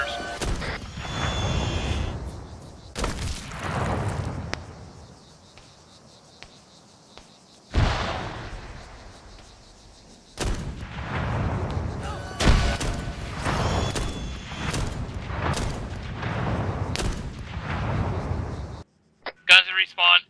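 Grenade blasts in an online shooter game set on an airfield near hangars and bunkers, several sharp booms scattered through the stretch with gunfire-like bursts and game noise, voices talking over them.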